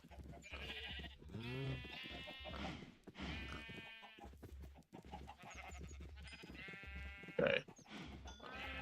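Minecraft cows let out a series of drawn-out, bleat-like moos, several calls spaced through the stretch over a low repeating game background.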